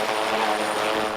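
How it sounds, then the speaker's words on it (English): A military medevac helicopter, ordered by King Abdullah, roars close and loud with a steady rotor and engine drone that does not let up. "The military medevac chopper King Abdullah ordered is here for Habiba"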